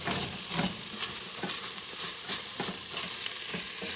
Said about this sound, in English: Now we're ready to add the tomato to the mushroom, onion, celery mixture with carrot